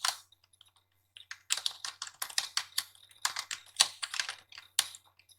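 Rapid clicking keystrokes on a computer keyboard while text is entered in LibreOffice Writer, bursts of close, crisp taps with brief pauses, no voices.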